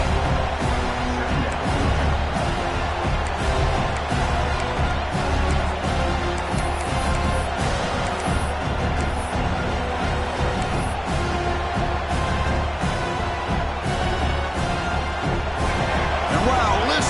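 Dense, roaring stadium crowd at a football video game, a steady loud wash of cheering and noise that holds at full level throughout, with the energy rising and falling slightly but never letting up.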